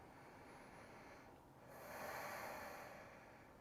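A yoga instructor takes a slow, deep breath during a power vinyasa flow twist, a soft airy inhale that swells into a louder, close exhale and then fades.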